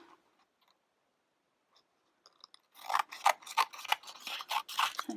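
Scissors snip through paper while a masculine birthday card is being made, a quiet run of close, crisp cuts and rustles following a few seconds of near silence.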